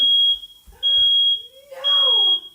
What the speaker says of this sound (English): Where's the fire alarm?